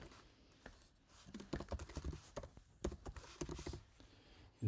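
Quick tapping of keys on a computer keyboard while entering a name in a setup form, a close, quiet run of clustered keystrokes with short pauses between words.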